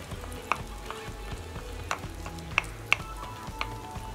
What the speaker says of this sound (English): we're adding some chopped garlic